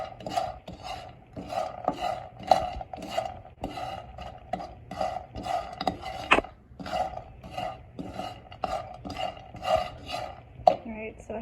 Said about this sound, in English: we're just going to toast these peanuts and let them get all this good flavor